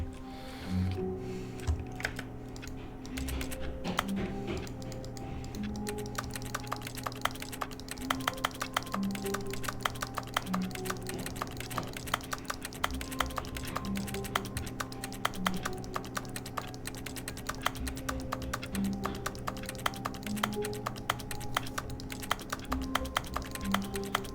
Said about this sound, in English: Let me just hit keys randomly.